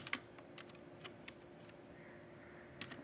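Quiet, scattered keystrokes on a computer keyboard while JavaScript code is typed, a few sharper clicks standing out against a faint background hum.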